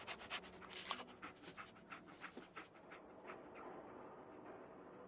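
Dogmeat, the German shepherd companion in Fallout 4, panting close up in quick rhythmic breaths that loosen into softer, steadier breathing toward the end, with no talk.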